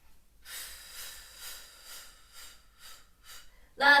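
Slow, steady breathing during a Pilates floor exercise, with a series of soft airy breaths at a regular rhythm, close and quiet, ending in a sharper, louder exhale.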